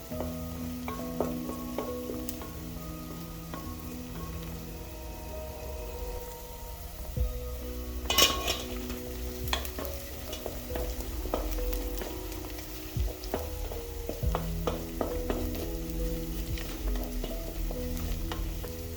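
Onions fry in a pot for beef pilau, crackling in a soft continuous sizzle as a utensil stirs and scrapes them now and then, with one sharper clatter near the middle.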